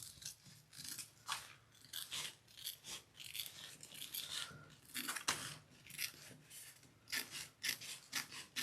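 Scissors trimming excess fabric from a Minerva tote bag: a steady series of crisp snipping and rasping cuts, close and fairly quiet, repeating at an even pace with no talking.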